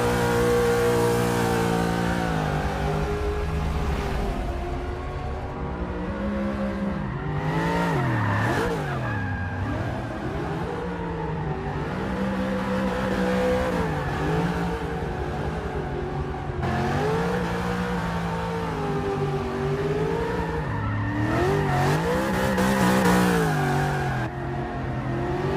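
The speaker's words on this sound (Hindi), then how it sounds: "आज से पहले आपने सिर्फ फिल्मों में ही गाड़ियों को इतनी तेजी से रिवर्स में चलते देखा होगा" A car driven at high speed in reverse, its engine revving and whining loudly with rising and falling pitch, tires squealing at moments, continuous and close throughout.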